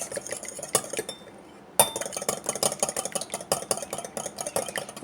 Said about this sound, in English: we're going to be using one egg, and I'm just going to beat it